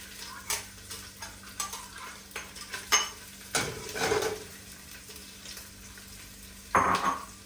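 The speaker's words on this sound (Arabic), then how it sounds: "يلا هنستنى الزيت والحله تسخن. هننزل على طول فورا بالبصل" Onions drop into hot oil in a pot and start frying, a soft steady sizzle with scattered clinks and stirring scrapes, close by and with no voices.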